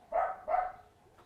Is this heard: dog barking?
yes